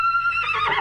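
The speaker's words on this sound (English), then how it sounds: "Swiss researchers in Zurich have analyzed the structure of about 20 different horse whinnies" A single horse whinny, a loud high tonal cry that breaks into a rougher, descending neigh within under a second, heard close and alone.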